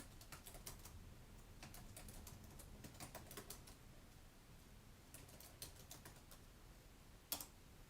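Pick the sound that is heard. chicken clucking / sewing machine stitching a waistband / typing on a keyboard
typing on a keyboard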